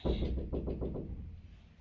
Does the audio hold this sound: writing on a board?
no